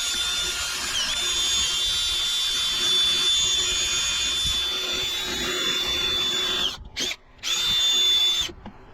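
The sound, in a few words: power sander sanding a cedar crotch log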